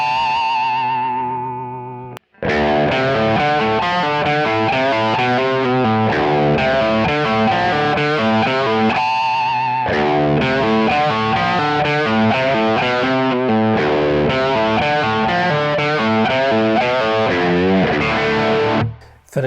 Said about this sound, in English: Now it sounds like he's doing a pinch harmonic on the 2nd fret of the A string.